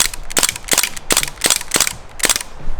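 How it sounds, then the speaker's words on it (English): A Crossman DPMS Panther Arms SBR BB rifle fires six sharp, evenly spaced shots, loud and close, with a short crack on each pull. "let's go ahead and fire a few more shots"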